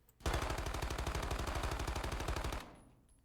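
Rapid automatic fire from an MX9 submachine gun in a shooter video game, a loud, close, evenly spaced burst of shots lasting a couple of seconds, then cutting off into a short fading tail.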